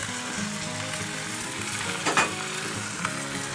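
Pork chops and garlic sizzling in a cast iron skillet over a fire, a dense steady crackle and hiss throughout, close up, with a brief clatter of a utensil partway through.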